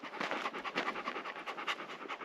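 Bear the dog pants close by in a steady, quick rhythm of breathy huffs during a walk up from a gate on a mountain road, with no talking.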